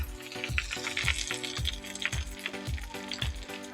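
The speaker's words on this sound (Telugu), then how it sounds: "ఆవాలు ఇలా చిటపట్లు ఆడుతుంటే" Mustard seeds crackle and pop in hot oil as asafoetida goes in for a tempering for tomato chutney, a steady sizzle with sharp, regular popping bursts close by and no voices.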